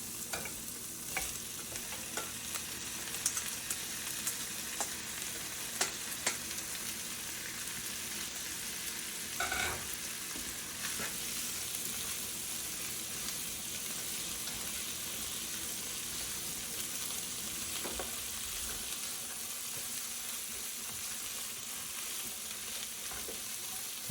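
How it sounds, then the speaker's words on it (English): Corn cooking in a pan for succotash, with beans being added, makes a steady soft sizzle and hiss throughout, broken now and then by faint stirring scrapes and knocks. "corn's been cooking for a few minutes here, so we're going to go ahead and add our beans as well"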